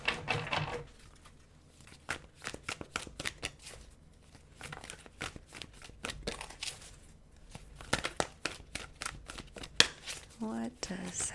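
Tarot cards shuffled by hand in a long run of quick, crisp riffling and flicking bursts, fairly close and moderately loud, broken by short pauses, with a voice speaking between the bursts.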